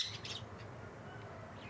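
A pet bird gives a couple of quick, high chirps at the start, then the call fades into a quiet indoor room hum.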